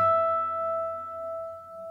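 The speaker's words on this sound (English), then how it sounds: "the harmonic should sound like this" A bell-like natural harmonic from the 7th fret of a guitar's G string sustains alone, pure and steady, fading gently over its length.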